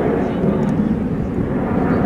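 A Gloster Meteor jet roars steadily through a display pass, a dense broadband rush filling the air without a break.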